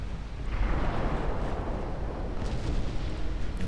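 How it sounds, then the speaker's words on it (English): Torpedo hits explode on warships in the naval strategy game Ultimate Admiral Dreadnoughts, a loud continuous rumbling blast that swells and sustains for several seconds with no talking. "There we go, one torpedo hit."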